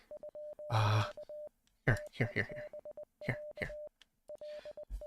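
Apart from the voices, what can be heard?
Morse code beeps in the video game Z.A.T.O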